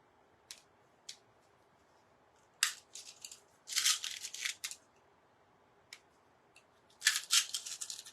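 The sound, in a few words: glass beads being plopped down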